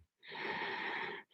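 A single long, steady breath during a modified primary sequence vinyasa yoga practice, drawn through the nose with a hissing, slightly wheezy texture, close and alone for about a second.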